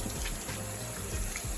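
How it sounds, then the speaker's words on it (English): Warm water running steadily from a kitchen tap while meat is rinsed, a quiet continuous splashing flow with no talk. "what I do is I use a little bit of warm water"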